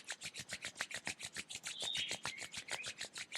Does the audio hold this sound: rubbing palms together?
yes